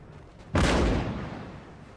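Artillery in Napoleon Total War fires grape shot: one sudden loud boom that rolls out into a long, slowly fading rumble, heard alone with no talking.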